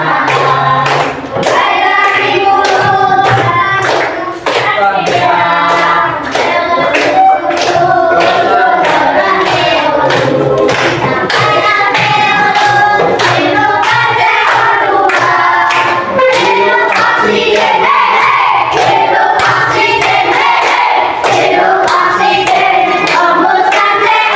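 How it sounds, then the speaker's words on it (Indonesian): A classroom of students claps hands together in a rapid, steady rhythm, loud and continuous, with voices chanting along over the clapping throughout. "Kita sambil tepuk tangan, tidak ada yang diam."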